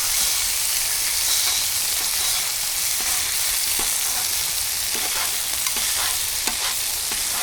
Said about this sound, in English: We're going to chop the bacon up into some small pieces and work it into the onion.